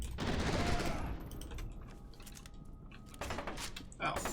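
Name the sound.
gunfire in the video game F.E.A.R. 2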